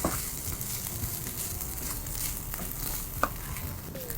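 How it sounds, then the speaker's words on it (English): Egg sizzles and is stirred and tossed in a hot non-stick pan, giving a steady frying crackle with soft scraping and one sharp clink of utensil on pan, close and without voices. "Now just break that egg up and toss it through."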